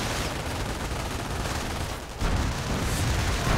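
Sustained machine gun fire in a World War II strategy video game. A dense crackle of shots rolls on throughout, briefly dipping before a louder burst resumes.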